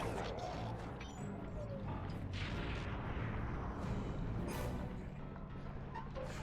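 Tank cannon blasts boom in Sly 2, heavy low rumbling impacts and explosions layered over a dense, continuous game soundscape, with a voice talking underneath.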